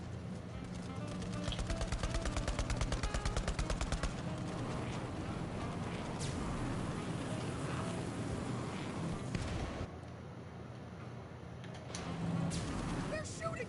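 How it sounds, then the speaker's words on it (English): Gunfire rattles in Borderlands 3 while a car speeds along under attack, rapid bursts at first, then scattered shots and blasts mixed with engine noise and game voices. "They're shooting at us!"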